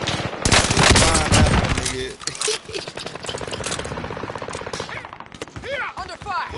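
Bursts of rapid automatic gunfire in the video game Call of Duty Warzone, loud and dense at first, then continuing as scattered shots and distant firefights beneath game sounds.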